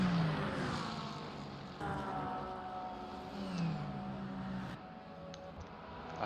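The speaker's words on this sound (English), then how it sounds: "I hear a Porsche ahead of him." Porsche race car engine in a GT3 racing game at Spa near Eau Rouge: a distant, moderately quiet engine whine that rises and falls through gear changes, mixed with other cars on a crowded grid.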